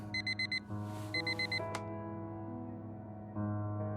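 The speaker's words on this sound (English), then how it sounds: "The same alarm tone that Harry can sleep through." Alarm clock in Fragments of Him sounds its tone as two bursts of rapid repeated beeps against a soft, steady tonal background, heard near and clean with no talk.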